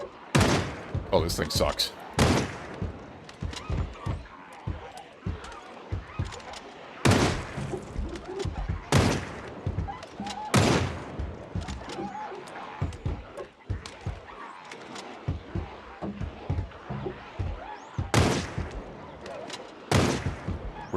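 Gunfire in the zombie survival game Project Zomboid: several sharp, loud broadband shots spaced a few seconds apart, mixed with clicks and thumps, while a voice talks over much of it.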